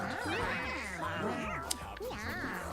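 Cats in the video game Mewgenics meow and caterwaul repeatedly in rising and falling whines, overlapping one another over a steady background bed.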